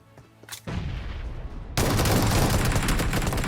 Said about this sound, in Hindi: मैंने 2-3 शॉटगन मिस करी